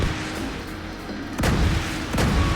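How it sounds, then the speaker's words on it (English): Missile launchers fire in The Division 2 during a raid, two heavy booming bursts landing about a second apart over a steady low game rumble, loud and close. "if these missile launchers start making a noise like this one is"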